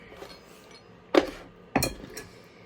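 A wine glass gives two short, bright clinks roughly half a second apart, close and fairly quiet against a calm indoor background, with no talk.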